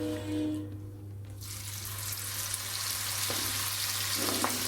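Masala-coated chicken 65 drops into hot oil and fries, with a brief splashing burst followed by a loud, dense, continuous sizzle close by, and no talk.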